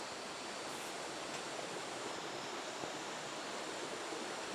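Water rushes steadily through Ziyun Gorge in Zhaoqing, China, a dense, even waterfall-like roar that stays constant and close throughout with no voices.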